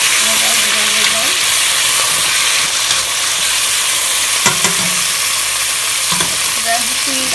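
Sombala and salt are stirred in a hot frying pot, giving a loud, continuous sizzle with scraping stir strokes and a few sharp knocks from the utensil.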